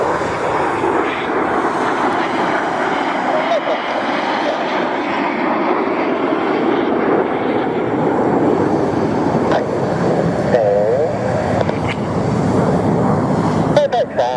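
Red Arrows display jets flying the 3-4 cross at an airshow, a steady loud jet roar filling the whole stretch while an announcer talks over it on the public address.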